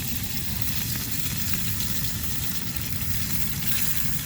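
Oil sizzles and spits steadily in a cheap pan at an outdoor wild campsite, a constant close crackling hiss with no pauses or voices.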